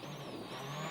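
Dani Sordo's rally car at the 2009 Acropolis Rally, damaged after striking a roadside stone, runs with a steady, strained engine drone and whining tones that rise slightly over one continuous second.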